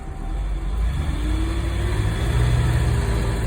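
A 1974 Dodge Tradesman 200 van engine, warmed up, runs steadily in gear with a low, rough mid-pitched drone and a slight rise in pitch, loud and close, with no talking.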